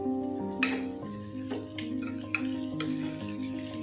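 Chicken sizzles steadily in hot oil in a pan while a little sugar is added, with a few sharp clinks and scrapes over the continuous frying, close and moderately loud.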